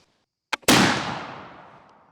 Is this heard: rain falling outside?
no